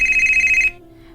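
A mobile phone rings in a steady, loud, high electronic trill that cuts off abruptly after under a second, leaving a quiet background.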